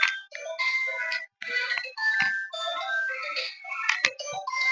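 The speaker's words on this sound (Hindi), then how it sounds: "फोन आ गया, 1 मिनट।" A phone rings with an incoming call, playing a bright melodic ringtone in repeated tonal bursts, fairly close and clear with no talking over it.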